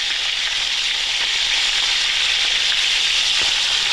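Razor clams sizzle steadily in very hot oil, a loud, continuous crackling fry with no voices and no break across the whole stretch.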